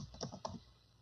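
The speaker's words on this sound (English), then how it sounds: "I am typing too fast, guys" Fast typing on a computer keyboard, a quick burst of several close clicking keystrokes that thins out and stops partway through, with no voices.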